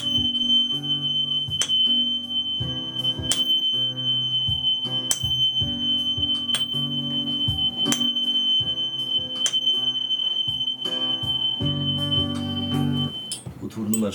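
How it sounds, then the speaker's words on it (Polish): A tuning fork tone in the key of G sounds as a steady, sustained pure pitch that persists across the whole stretch, with layered resonant tones and repeated soft strikes in the background. "Utwór numer 5, dźwięk tonacji G."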